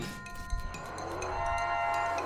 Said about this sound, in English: There's a hell calf grazing nearby.